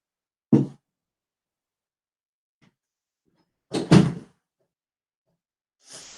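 A room door is pushed shut at home, giving a soft thud, then a louder knock and latch click a few seconds later, with a faint rustle at the end and no talk.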